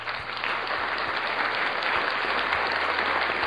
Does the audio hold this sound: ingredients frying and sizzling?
no